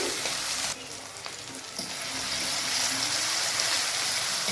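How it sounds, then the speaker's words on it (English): Vegetables fry in a pot for Jamaican-style red herring, a loud, close sizzle and crackle that briefly dips, then swells back up and holds steady, without any talking. "So what you want to do is to first fry the vegetables first."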